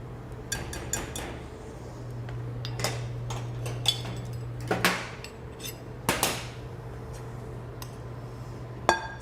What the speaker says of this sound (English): So I think I'm gonna start with the cream. Let me just mix this up a little bit.